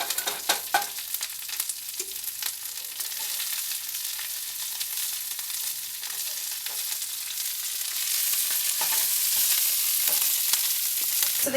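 Kale frying in garlic-infused olive oil in a pan on a stovetop over medium-high heat, a steady close sizzle with occasional stirring scrapes and pops, no speech.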